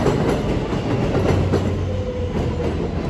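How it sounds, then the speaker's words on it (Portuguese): An elevated subway train in New York rumbles and clatters past overhead with a steady, loud rolling roar and rhythmic wheel clacks, with no voices heard. "Especialmente o metrô em cima."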